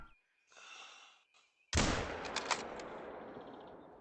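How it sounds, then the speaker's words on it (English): A single sharp rifle shot rings out at an axis deer in theHunter: Call of the Wild on the Emerald Coast. A brief breathy sound comes first, then the loud crack decays into a long, rumbling outdoor echo. "Finally, I got to shoot something without missing completely"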